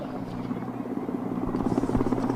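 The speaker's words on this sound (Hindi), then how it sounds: "इस समय सीमा सुरक्षा बल एयरविंग के हेलीकॉप्टर्स Mi-17 V5 तथा Mi-17 V1 राष्ट्रध्वज व बीएसएफ ध्वज आसमां की ऊंचाइयों पर फहराते" BSF Air Wing Mi-17 V5 and Mi-17 V1 helicopters flying overhead at a foundation day event, a steady rhythmic rotor throb that grows slightly louder, with a voice talking over it.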